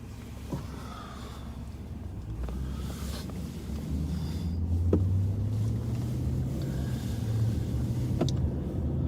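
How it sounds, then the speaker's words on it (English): Two cars speed past on a freeway, heard from inside a patrol vehicle as a steady road rumble swelling around the middle, with faint clicks on top. "It's not that often that two cars blow by you on the freeway like that, is it?"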